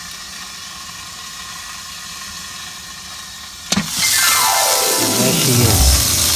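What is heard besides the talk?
BBQ chicken sizzling on Ziegler and Brown triple grill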